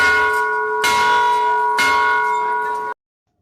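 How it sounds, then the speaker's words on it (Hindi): A metal temple bell at the entrance of Markandeya Mahadev temple is struck several times, loud and close, each ringing tone sustaining and overlapping the next before it is abruptly cut off. "यहाँ पर लोग घंटा बजाकर अंदर प्रवेश करते हैं"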